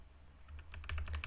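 A short run of key presses on a computer keyboard, several quick distinct clicks that gather and grow louder toward the end, close and alone with no talk.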